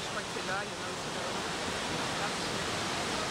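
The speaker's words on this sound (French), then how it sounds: "c'est les cascades d'ici" Steady, dense hiss of falling water from waterfalls in Ubud, Bali, an even wash of noise with no breaks, heard close by and without speech.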